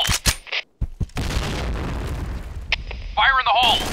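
In the video game Point Blank, a grenade goes off as a loud booming blast with a rumbling tail, and clipped game voice callouts come just before and after it.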